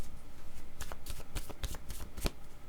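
A deck of tarot cards is shuffled and moved about close by, a quick run of sharp papery riffles and flicks, with brief quieter pauses between bursts.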